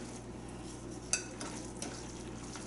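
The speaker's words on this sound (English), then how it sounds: "Give it a little stir." A spoon stirs tuna salad in a bowl, giving soft wet scraping and a few small clinks against the dish over a low steady background hum.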